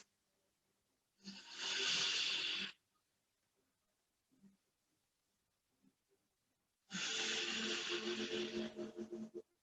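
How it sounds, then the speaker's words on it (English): Deep yoga breaths come in two long, airy exhalations separated by several seconds of near silence, close and soft with small rustles between. "Breathing deeply."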